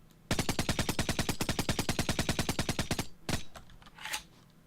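Rapid automatic gunfire from enemies in the video game Creeper Bunker, a fast steady burst of about thirty shots over three seconds, then a couple of separate louder blasts, with no voices.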